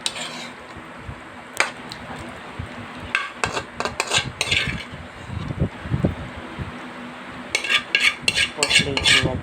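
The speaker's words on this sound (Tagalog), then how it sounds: "Plating na guys yung ginisang sayote ko." Metal utensils scraping and clinking against a plate and pan while sautéed chayote is served, scattered light clinks and scrapes with brief pauses, growing busier and denser toward the end against a faint room background.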